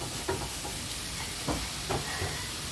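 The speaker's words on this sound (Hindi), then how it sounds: "अभी इसको अच्छे से मिक्स करेंगे और प्याज का कलर बदली करेंगे" Onions fry in a pan, with a steady low sizzle under a few soft scraping stirs from a spoon at irregular intervals.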